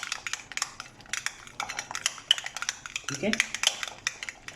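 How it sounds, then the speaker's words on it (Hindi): A spoon stirs chana salsa ingredients, including chickpeas, mayonnaise and lemon juice, in a bowl, making a run of light clinks and scrapes against the dish, with a brief spoken phrase partway through. "इन तमाम इंग्रेडिएंट्स को करूँगा अच्छा सा मिक्स"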